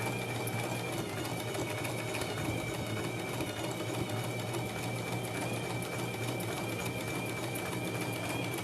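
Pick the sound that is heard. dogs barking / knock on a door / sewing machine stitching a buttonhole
sewing machine stitching a buttonhole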